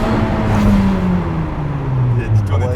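A 1,000-horsepower Ferrari supercar engine drones loud and close, its pitch climbing and falling as it pulls hard through a run, with people talking over the engine noise.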